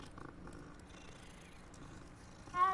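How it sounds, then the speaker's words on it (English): A cat purring in Hogwarts Legacy, a soft, steady, low rumble close up that runs throughout, with a brief higher tone near the end. "Oh, is that a cat? Another cat I can pet."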